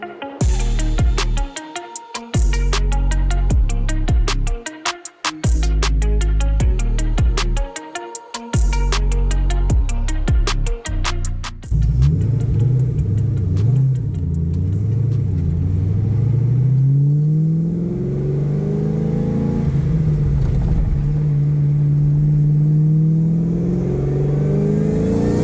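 A supercharged 2004 Ford Mustang Cobra under boost, first a loud rhythmic engine drone with rapid revving bursts, then a deep rumbling pull as the car accelerates hard, the pitch climbing and sweeping up and down close to the listener.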